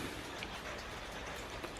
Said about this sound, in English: at least it's raining